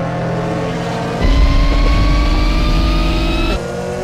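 Lamborghini racing on a snowy mountain highway in Need for Speed: The Run, its engine revving hard and steady, loud and close, surging louder through the middle before easing back.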